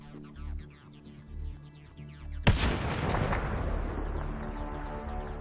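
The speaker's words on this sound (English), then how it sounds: "Oh, I'm going to try a shotgun also, by the way." A shotgun in the video game Mass Effect Andromeda fires a single loud, sharp blast over low game ambience, followed by a long rumbling decay.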